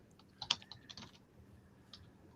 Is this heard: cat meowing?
no